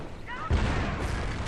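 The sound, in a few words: anti-tank gun shot in video game battle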